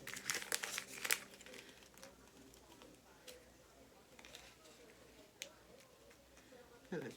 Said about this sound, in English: I'm gonna peel this off of its backing